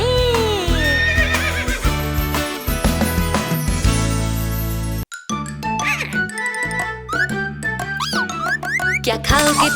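A cartoon horse neighs and whinnies amid bouncy children's music, with jingles and clip-clop effects, loud and close, followed by more playful tonal sound effects after a brief pause.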